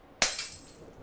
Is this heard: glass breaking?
yes